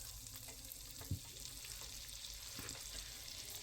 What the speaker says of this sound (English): So I'm just gonna melt the butter